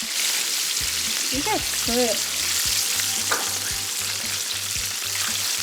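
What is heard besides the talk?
chicken wings frying in oil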